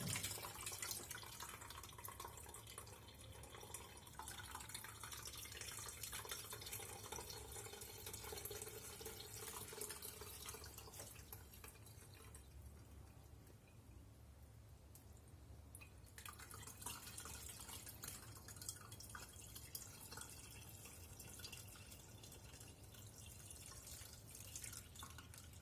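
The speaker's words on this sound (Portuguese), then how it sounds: "E agora eu vou despejar todo o líquido aqui. E vamos fazer toda essa coagem." Homemade bread kvass liquid is poured out and strained, a faint continuous trickle and drip of liquid running steadily for over twenty seconds at low volume.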